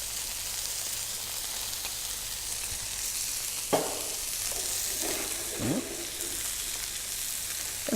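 Prosciutto-wrapped chicken frying in a pan gives a steady, soft sizzle, with a few brief clatters from turning or handling the pieces.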